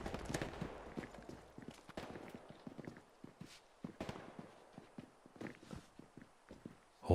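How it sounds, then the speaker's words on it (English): Many soldiers' footsteps on the Hill 400 map of Hell Let Loose during a 49-versus-49 match: a dense, irregular patter of nearby steps, some sharper and louder, continuing throughout without talk. "So many footsteps."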